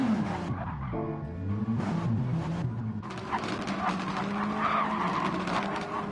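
A race car spins out at Spa-Francorchamps in a racing video game, giving loud, sustained tyre squeal and skidding mixed with the engine's revving whine, close and continuous for several seconds.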